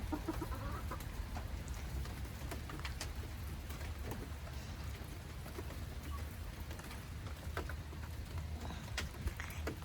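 An Americana hen clucks softly in a small coop on a rainy day, faint scattered clucks and taps over a low steady background hum, with no talk.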